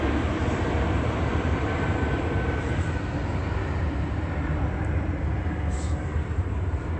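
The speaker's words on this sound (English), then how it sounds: "Another plane." A plane passes overhead as a steady broadband roar, continuous and moderately loud throughout, with no clear rise or fall and no speech.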